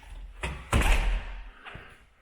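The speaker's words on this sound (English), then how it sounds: "let me get this door shut" A house front door swings and shuts with a solid thud, preceded by a softer knock of handling and followed by a faint latch click, close by in an indoor entry.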